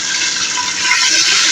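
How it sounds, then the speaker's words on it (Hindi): Water is poured into a cooking pot while roasting dalia with chicken, a steady loud splashing, hissing rush lasting a couple of seconds, close and with no talking. "पानी डाल दूँगी"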